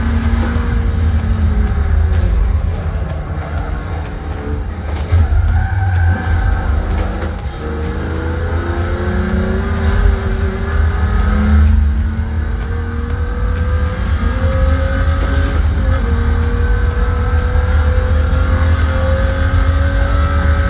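A race car engine drones and revs in Forza Motorsport 7, driven with a Logitech wheel, loud and continuous with rising and falling pitch through gear changes.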